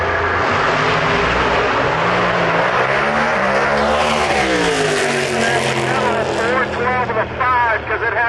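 Loud, close launch of a 940 cubic inch drag car with four stages of nitrous at a drag strip, its engine roaring and sweeping up in pitch as it pulls away, the harsh revving rising, then fading as it departs.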